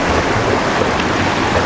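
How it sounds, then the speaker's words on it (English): Waves lap continuously on the shore by a Hawaiian reef at night, a steady close wash of broadband surf noise with no distinct breaks and no voices. "the tether is going to be slightly pulled around by the waves, you know, lapping on the shore"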